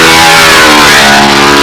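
Loud, unmuffled model airplane engine running steadily at high revs, a dense buzzing drone with strong harmonics held throughout the short stretch, no talk over it.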